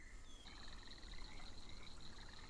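A frog croaks in a faint, repeated rattling call outdoors in the woods, heard against a soft, noisy background with no talking.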